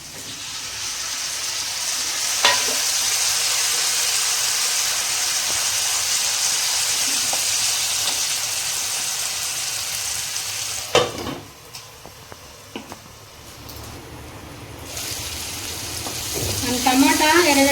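Green chillies, onion and tomatoes fry in a pan with a steady loud sizzle throughout, broken by a few stirring clatters near the middle and a brief voice toward the end.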